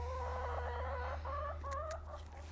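A hen in a greenhouse chicken coop gives a run of soft, drawn-out clucking calls while trying to lay. The calls come close and fairly quiet over a steady low hum.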